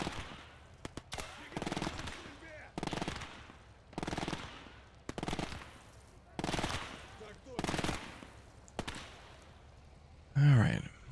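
Bursts of rapid machine-gun fire in a WWII real-time strategy game as a window is shot out, several sharp rattling volleys spaced by short gaps, loud and close, ending in a heavier blast.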